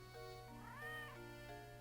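A single cat meow from the video game Professor Layton and the Curious Village, a drawn-out rising then falling call, heard over soft looping game music with a steady low hum and no talking.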